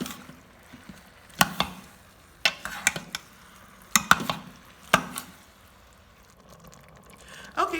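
A spoon scrapes and knocks against the pan while breaking up ground beef browning for chili, sharp clacks and scrapes in irregular bursts over a faint low sizzle, with no talking.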